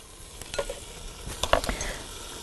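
Taco filling stirred in a frying pan, a spatula scraping and clattering in a few bursts over a soft background sizzle, close and fairly quiet.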